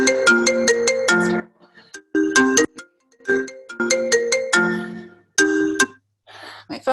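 A phone ringtone plays a bright, repeating electronic melody in short bursts with gaps between phrases, heard close and loud during a Pilates barre class, with a brief spoken word.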